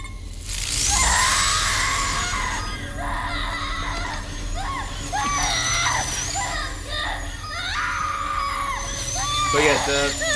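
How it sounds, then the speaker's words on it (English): A woman screams in a brutal scene, her wailing cries sliding up and down in pitch almost continuously, loud and close, with other voices faintly underneath. "It's actually screaming all over the place, like going up and down in her tone"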